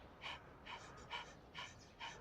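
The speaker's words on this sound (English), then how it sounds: "Group panting." Rhythmic panting in a yoga class, five quick breathy puffs at an even pace, soft and close with no talking.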